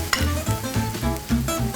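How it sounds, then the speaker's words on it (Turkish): A chicken karnıyarık mixture is stirred briskly, giving repeated rhythmic scraping and squelching strokes, close and moderately loud, with no talk. "Şimdi bunu güzelce böyle karıştırıyorum"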